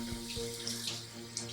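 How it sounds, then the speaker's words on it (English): Water runs steadily from a bathroom tap to wet a natural face scrubber, a soft continuous splashing stream with light droplet spatters, fairly close and heard alone. "and I just wet that with some water"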